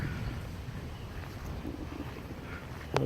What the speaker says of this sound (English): it's got some wind here